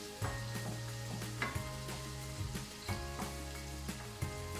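Onion sautés in a pan for a Filipino-style chicken à la king, a steady sizzle with intermittent scraping and stirring clinks against the pan, close and without talk.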